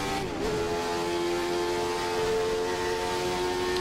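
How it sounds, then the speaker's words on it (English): A 1991 Jordan 191 Formula 1 car engine held at full revs, around 12,000 rpm, a steady loud high-pitched scream with a sustained tone and no pauses. "Full revs now on the engine."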